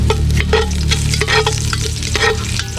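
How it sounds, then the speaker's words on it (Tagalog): Ginger frying and being stirred in oil in a pan over an outdoor cooking fire, a steady loud sizzle with repeated scraping stirs throughout. "Hanggang maging light brown yung ginger natin."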